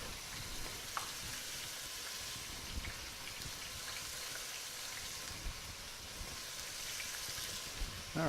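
Meatballs frying in oil in a pan, a steady crackling sizzle that stays fairly even throughout, with a few sharper pops and spits close by.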